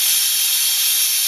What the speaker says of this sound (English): A whole load more steam comes out.